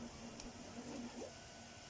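A 3D printer running a print job, a faint steady motor hum with a sustained tone and soft whirring movements, heard from nearby with no talking.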